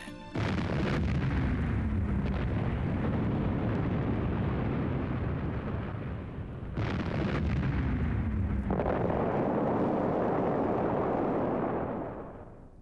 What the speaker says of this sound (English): The freighter exploded without warning, killing everyone on board.